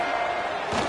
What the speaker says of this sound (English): The loudest jet you can think of has nothing on this crowd as they try to help the Falcons on 3rd down.